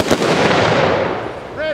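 A rifle volley fired for a Memorial Day salute in Lancaster in 2020 cracks out as one loud, sharp blast, followed by a long rolling echo that fades over a second or so.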